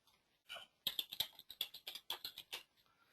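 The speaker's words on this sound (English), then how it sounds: "so let's type it in instead." Fingers tapping out a website address on a computer keyboard, a brief quiet burst of about a dozen quick, close keystrokes after a couple of softer clicks.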